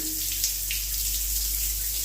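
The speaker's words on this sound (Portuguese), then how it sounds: "2 chuveiros ligados. E a água sai normal, com bastante volume de água" Water runs steadily from two showers fed by a low-pressure boiler with an electric heating element, a constant broadband hiss with a low hum underneath and no pauses.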